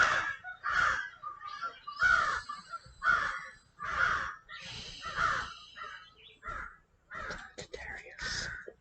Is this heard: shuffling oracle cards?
no